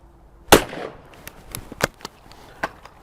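Side-by-side shotgun firing at clay, one sharp close blast followed by scattered clicks and knocks of handling, each brief and fading quickly.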